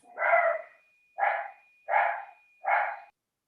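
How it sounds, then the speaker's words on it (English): Dogs bark during a commission meeting, four separate barks spaced about half a second apart, clear but somewhat distant, with no talking over them. "I'll take the dogs barking as an approval"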